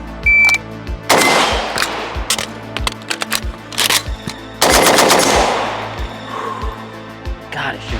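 A Draco pistol fitted with an MMS AK rail and T2 optic mount fires rapid shots in quick sharp bursts and strings, loud and close, with short pauses and occasional talk between strings.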